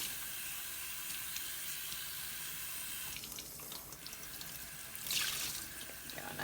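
Water runs steadily into a sink of cold water while soap is rinsed from yarn, a continuous splashing rush with a brief louder surge near the end, no voices.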